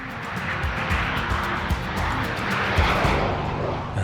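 Red Arrows display jets flying in high winds as dusk falls, a continuous broadband roar of jet engines holding steady for several seconds with gusting rumble underneath.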